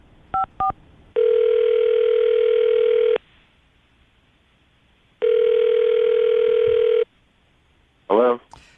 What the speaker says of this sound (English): Kaylee, we're going to call him right now, see if we can get him on the phone